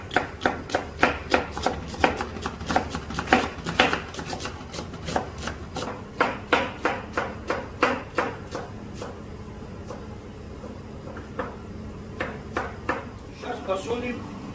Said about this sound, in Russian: Сейчас будем лук резать.